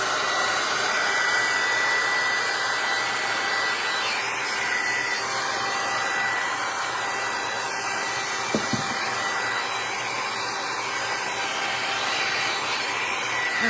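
A handheld dryer blows steadily and loudly without pause, drying the edges of a faux crackle decoupage tray, a constant rushing whoosh close by with no talking.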